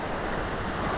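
Steady, heavy wind buffeting the microphone outdoors near the water at Buffalo Point, a dense continuous low rumble with no pauses or voices.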